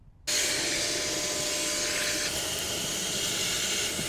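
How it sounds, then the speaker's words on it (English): Hoover vacuuming dust from the dirty gas burner of a 3-way fridge in a motorhome, starting abruptly and then running as a loud, steady, close-up whooshing drone. "I'm going to give it a hoover because it is very dirty and dusty in there."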